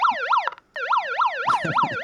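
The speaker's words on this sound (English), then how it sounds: "she's just put the siren on" Siren sound effect played indoors, a loud wailing emergency-vehicle siren sweeping up and down in quick repeated cycles, briefly cutting out before resuming, with some clattering noise beneath.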